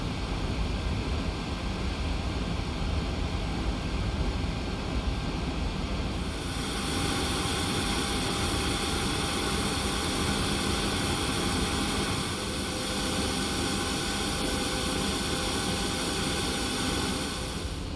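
A Boeing 737 auxiliary power unit runs in the X-Plane 12 flight simulator with a steady, loud broadband roar and a high whine that rises partway through, with no talking.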